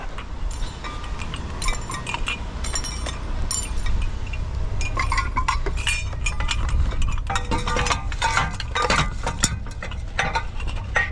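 Glass and metal pieces clink and rattle irregularly while scrap metal is handled, with scattered sharp chinks over a low rumbling background.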